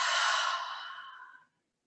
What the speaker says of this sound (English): Take a nice deep breath in through the nose, out through the mouth.